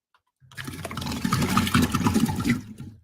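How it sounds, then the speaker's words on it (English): A water cooler gushes loudly and close, a continuous rushing pour of water lasting a couple of seconds before cutting off abruptly. "We were a little close to the water cooler. That's why it was so loud."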